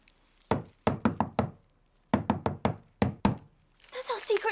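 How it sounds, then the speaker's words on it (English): A patterned secret knock raps on a door: five quick knocks, a pause, then two more rhythmic runs of sharp close thumps, followed by excited voices talking. "That's our secret knock."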